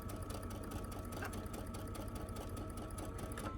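A sewing machine stitches a scant quarter-inch seam on a large fabric bag. A continuous, even mechanical chatter runs close and steady throughout, with no pause.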